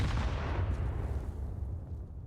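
Grenades blasting in a professional CS:GO match on Dust2 at ESL Pro League, a dense, continuous roar of overlapping explosions that stays loud throughout and fades slightly at the end.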